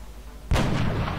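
A single heavy gunshot booms in the XCOM Enemy Within video game, a sudden loud blast followed by a rumbling tail, with no talking.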